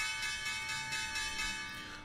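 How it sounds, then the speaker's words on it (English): Stock market opening bell ringing on a live trading stream: a steady sustained metallic ringing with many bright overtones, loud and continuous for about two seconds. "Opening bell."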